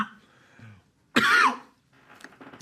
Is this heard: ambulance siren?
no